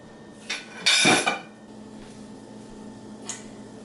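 A metal lid clanks onto a pot of zucchini spaghetti with a brief scrape and a sharp ringing clatter, then a faint tap, close by and with no talking.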